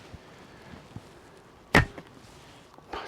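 A lightweight 380 grain arrow loosed from a Mongolian biocomposite bow, one sharp close snap and whoosh near the middle, with soft handling noises before and after in a quiet outdoor setting.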